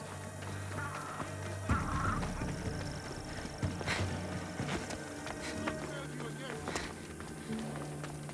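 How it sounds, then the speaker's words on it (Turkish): A horse approaching in Assassin's Creed Odyssey, with clip-clop hoofbeats and a whinny mixed with game music and ambience, under someone speaking. "Bizim beygir nerede ya?"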